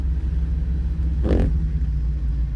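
A car drives through rain in Brazzaville, Congo, with a steady low engine rumble and road hiss and one short louder swell, like a vehicle passing close by.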